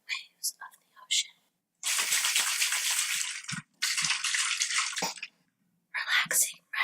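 Water is sloshed and poured near the microphone to mimic ocean waves for ASMR, coming in broad hissing surges separated by quiet gaps, with brief whispery mouth sounds between them.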